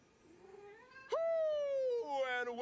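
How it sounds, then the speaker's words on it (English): Cats yowl and caterwaul in drawn-out, rising and falling wails, one long loud cry followed by overlapping meows, fairly close and without other talk. "I don't know what the problem with the cats is"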